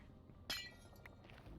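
A glass block being placed in the video game Minecraft: a single short, bright glassy clink near the start, with quiet game background after.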